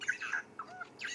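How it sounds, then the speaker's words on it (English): Burchell's starling and other birds call at sunset on a safari reserve in Sabi Sand, giving a string of faint, distant chirps and warbling whistles that rise and fall with brief pauses between them. "Lots of birdsong you can possibly hear. You can hear the Birchall starling going."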